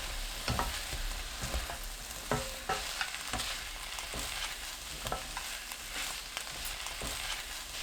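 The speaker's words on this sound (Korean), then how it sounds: "고구마, 진간장 1큰술, 멸치 액젓 반큰술 넣고 1분 30초 볶습니다" Sweet potato and kimchi stir-frying in a pan with soy sauce and anchovy sauce, a soft sizzle broken by repeated scraping stirs and clacks, fairly close with no talking.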